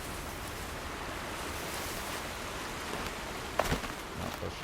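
Steady rushing water in the video game Horizon Zero Dawn, a continuous even wash like surf or rain, moderately loud, with a brief soft knock near the end.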